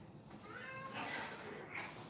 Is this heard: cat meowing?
yes